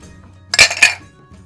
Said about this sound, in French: trinquons alors